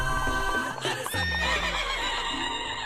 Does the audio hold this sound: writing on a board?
no